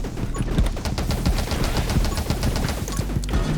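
Rapid gunfire rattles from a weapon shot while running in the game 20 Minutes Till Dawn, a dense, steady stream of close, punchy shots with rhythmic bursts over a low backing hum.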